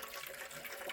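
Cold water flows in a steady, close, continuous rush with no voices.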